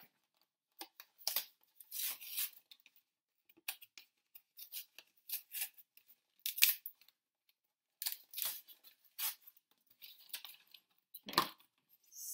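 Scissors snip open a package close by, a string of crisp cuts and crinkly rustling bursts in irregular clusters with short pauses between, no talking.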